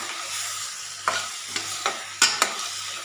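Mushrooms stirred in a pan with chili powder and salt: a soft sizzle under a run of sharp scraping stirs, about five close strokes, with no voices.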